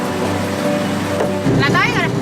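A fishing boat pushes through rough sea on a pre-dawn run out of Daejin port, with a steady engine drone and broadband water and wind noise. The splashing grows louder near the end, and a brief voice breaks in late.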